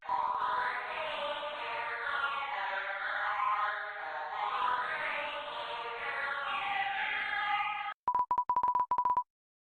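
8-bit chiptune music from the video game Undertale, with bright, layered square-wave melodies sweeping steadily for about eight seconds, then cut off by a few quick, pulsing electronic beeps.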